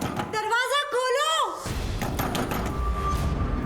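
A voice calls out loudly, and dull thuds of banging on a locked door follow, muffled and fairly steady against background noise.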